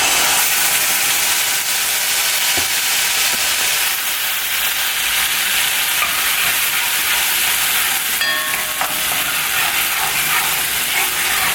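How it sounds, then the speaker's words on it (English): Hot oil steadily sizzling and hissing in a cooking pot, a dense continuous crackle with a few sharper pops rising out of it, close and fairly loud. "you just have to get used to cooking with the popping and the hot oil"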